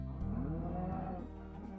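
A Minecraft cow lets out one long, loud, drawn-out moo with a slightly wavering pitch, alone and up close.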